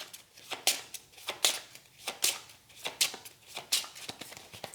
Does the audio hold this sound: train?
no